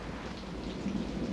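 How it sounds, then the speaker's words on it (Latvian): Thunder rumbles low and continuous alongside steady rain, a dull, broad roar swelling slightly toward the end. "Tikai pērkons Latvijas debesīs"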